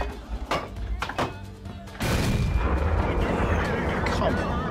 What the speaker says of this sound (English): That was gold high explosive AT.